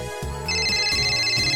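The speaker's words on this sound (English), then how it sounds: "Mary's cell phone starts to ring." A cell phone ringtone from the visual novel Steins;Gate: My Darling's Embrace plays loud and close, a repeating electronic melody of bright tones over a rhythmic low pattern.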